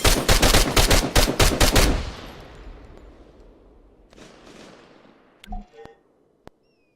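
Rapid bursts of gunfire from the right in a military video game, loud and dense for about two seconds, then a fading rumble with a few sharp isolated shots and clicks near the end.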